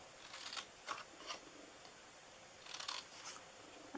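Scissors snip through card for an Easter egg treat box, with a few short, quiet crisp cuts spaced apart and then a cluster of two or three snips near the end, close and with no voice.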